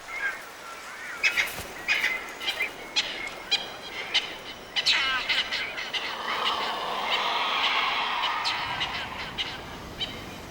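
Cape vultures calling at their cliff nest sites: a flock of harsh, honking and croaking calls, some near and loud, repeating irregularly over a rougher, continuous background squabble, with no speech.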